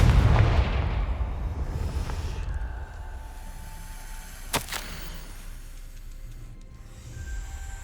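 A Confringo spell goes off in Hogwarts Legacy with a heavy booming blast that rumbles and fades, followed a few seconds later by a sharp, brief crack over a low game ambience.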